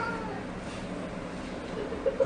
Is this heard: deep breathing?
no